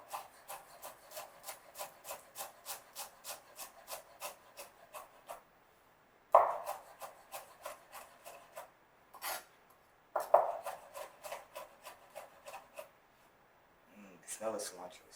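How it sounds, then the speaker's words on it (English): A knife rough-chops fresh cilantro leaves on a cutting board in a home kitchen, giving a steady run of quick, evenly spaced close taps that pause briefly, then resume in a second rhythmic burst. "Just go ahead and do a nice little rough chop,"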